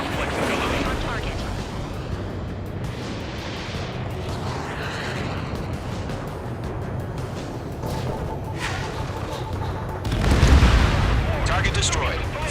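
Anti-air gunfire and explosions rumble continuously through an Ace Combat 7 air battle, a dense, loud wash of booms with a heavier blast near the end, while radio voices talk over it.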